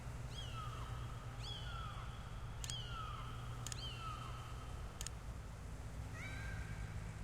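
Kittens meow repeatedly in the Sam & Max video game, a series of about six short, high mewing calls spaced a second or so apart, fairly close over a steady low hum.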